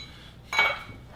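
Ice cubes clink into a glass of Johnnie Walker Gold Label Reserve whisky in a single brief, bright glassy chink, close and clear against a quiet room.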